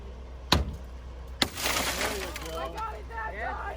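Car window glass on a wrecked 2006 Honda Civic is struck and shatters during a rescue training exercise. Two sharp impacts are followed by crunching, tinkling glass, with voices talking in the background.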